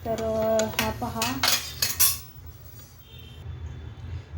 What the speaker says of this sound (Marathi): सुरीने घेतला चिरून असं 2-4 तुकडे केले